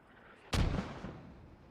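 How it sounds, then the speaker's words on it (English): A single artillery strike from the World War II game Post Scriptum, a sudden distant-sounding boom that lands sharply and rumbles away over the next second, alone without talk. "maybe it's 2 artillery strikes at the same time"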